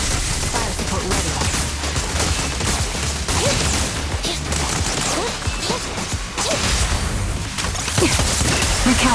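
Dense volleys of fire support gunfire in Zenless Zone Zero, loud and continuous with sharp impacts and whooshes layered over a busy game soundtrack, no clear pauses.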